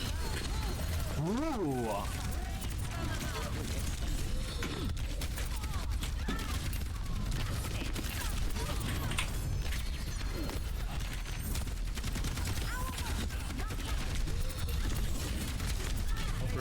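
Rocket barrage ultimate firing in a team-based shooter video game, a dense, continuous stream of rapid explosive bursts and mechanical rattling that fills the whole stretch, with players talking over it.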